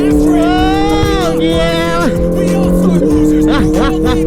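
A car pulls away in first gear on a road trip into Lampung, its engine note climbing loud and near in a sustained rev, with other traffic around.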